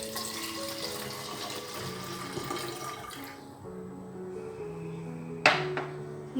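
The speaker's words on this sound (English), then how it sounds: "Now I will add water." Water runs and splashes steadily into a container at home, then the pour stops and a short clatter follows; the sound is fairly quiet and close.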